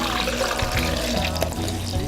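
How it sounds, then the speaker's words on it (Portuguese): Water pours into a small blender jug, roughly 700 ml going in for a homemade juice, as a steady, close splashing rush that fills the whole moment with no voices. "agora a gente coloca a água"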